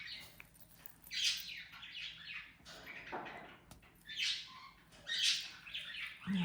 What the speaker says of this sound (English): my birds. They're happy. They're eating their carrots.